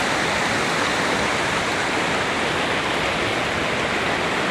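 Floodwater in Attapeu, Laos: a steady, loud, broadband roar of rushing water, continuous and unbroken throughout, with no voices over it.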